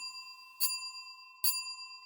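A small hand bell struck twice during a séance scene in a radio drama, two bright ringing strikes spaced about a second apart with a sustained metallic shimmer trailing between them, alone and fairly quiet.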